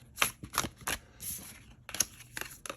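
Tarot cards handled and shuffled by hand, a series of quick papery riffles and snaps in short bursts, close and fairly quiet with no talking.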